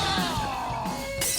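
Ordinary glass shatters under a dense, sustained tonal roar, with gliding ringing tones and a sharp bright crash burst near the end; loud and continuous throughout, with no talk.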